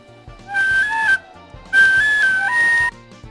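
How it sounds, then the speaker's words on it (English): A tin whistle played inside a vehicle, sounding two short melodic phrases of bright sustained notes with small pitch steps, close and loud over a low rumbling hum. "Tin whistle tracks recorded in a vehicle at work."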